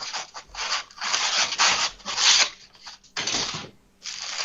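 Polystyrene packaging from a damaged parcel, handled and crumbling close up, gives harsh squeaky rubbing and crunching in irregular bursts, with short pauses between the scrapes.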